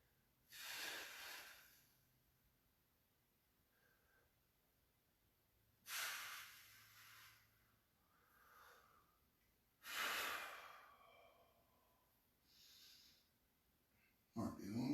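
Heavy breathing during a core workout: three loud, breathy exhales spaced about four seconds apart, each a forceful rush of air, with quieter breaths between them.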